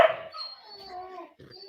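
A single dog gives one sharp bark, then a drawn-out whining howl and a short yip, heard a little distant in the background with no speech over it.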